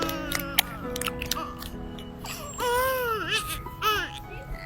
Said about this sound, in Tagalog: Parang may naririnig akong iyak ng bata.